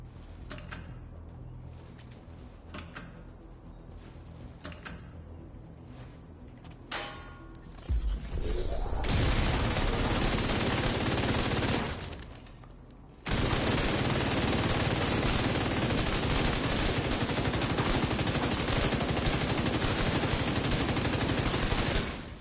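Banshee Pulse gun fired at a shooting range in The Division 2: a few scattered shots first, then long, loud, unbroken automatic bursts with one short pause.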